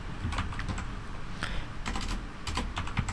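Steady typing on a computer keyboard, a quick run of light clicking keystrokes in short bursts with brief pauses, close and alone over a low background hum.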